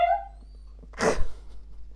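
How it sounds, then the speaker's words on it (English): A pet dog gives a short high whine at the start, then a brief burst of yips and whimpering follows around the middle, close and fairly loud in a quiet indoor room, with one brief spoken word in the background. "clearly my dog has a lot to say too on the subject"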